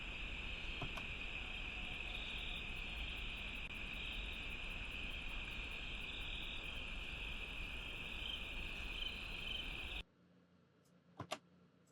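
Insects chirp steadily through an overnight outdoor recording, a dense continuous high drone with faint rhythmic pulses, held at even level before cutting to near silence with a couple of brief clicks.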